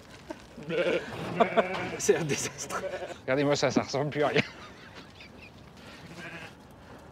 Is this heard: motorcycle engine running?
no